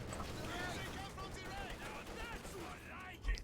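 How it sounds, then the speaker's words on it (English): Scattered gunfire rattles through a battle in a strategy video game, with a short low thump of a mortar shell striking near the end; a commentator talks over it throughout. "Oh, and a mortar hit."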